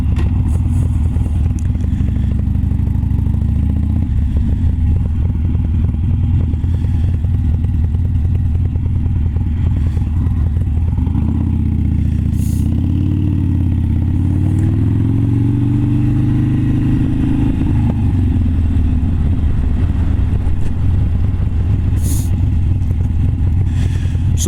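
A motorcycle rides along a road near Glossop, its engine droning loud and steady throughout, rising and falling in pitch midway, with wind rush and no talk.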